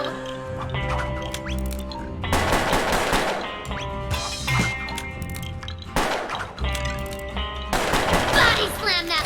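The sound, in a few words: revolver gunfire from gunslinger in video game Puppeteer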